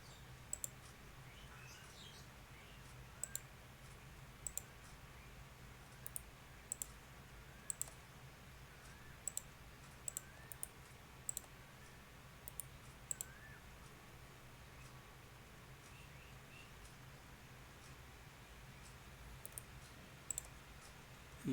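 A computer mouse clicks sharply and sporadically, single and double clicks scattered over a faint steady room hum, with faint chirps in the background.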